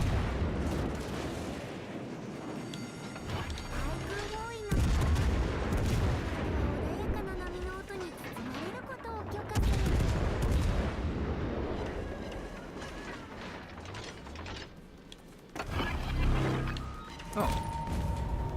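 Warship guns in World of Warships: Legends fire in heavy, booming salvos with rumbling low blasts and sharp onsets, layered over continuous battle noise and engine drone.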